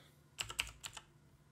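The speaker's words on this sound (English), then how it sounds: "If I can type." A short burst of typing on a computer keyboard, about five or six quick, close keystrokes in an uneven run, then stopping, over a quiet low hum.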